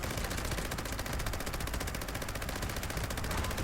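A Gauss minigun in Fallout 76 fires continuously, a rapid, dense stream of loud shots in fast steady rhythm, close and harsh, with no talking over it.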